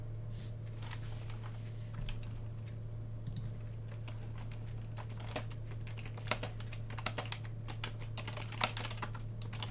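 Steady clicking of keys on a disliked computer keyboard, soft and continuous, with a few sharper keystrokes standing out above a constant low electrical hum and no voices.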